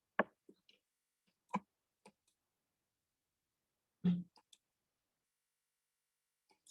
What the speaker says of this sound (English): So I'm clicking on share screen and selecting the screen.